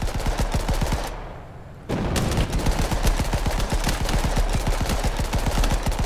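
Rapid machine-gun fire from a tank in a video game, sustained and loud, pausing for about a second before the rattling bursts resume.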